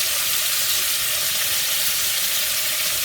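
Chunky sofrito sizzles hard in a pan with chicken wings, a loud, steady frying hiss with no break, close up and with no talking.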